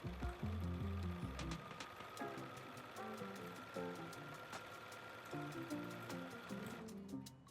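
A home sewing machine stitching a buttonhole, its needle motor running steadily with a continuous mechanical whir and faint rhythmic clatter throughout.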